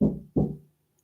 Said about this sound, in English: it's somebody knocking on the door